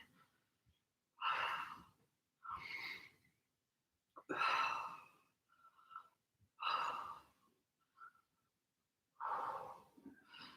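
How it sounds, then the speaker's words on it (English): Loud, close breaths, sighing exhales and sharp inhales, come in a slow paced rhythm of about five bursts with short pauses between, from someone holding a controlled position during an oblique exercise. "Breathing nice and controlled."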